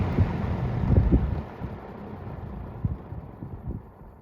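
A 1975 TG&Y Champion electric fan starting up on high, with a low, wind-like motor and blade rush that swells with light thumps, then settles into a steadier, softer whoosh.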